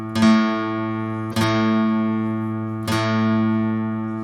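Two guitar strings ring together in unison on an A during 5th fret tuning, plucked three times at even intervals, each pair sustaining smoothly and steadily without beating, quiet and close with no voice.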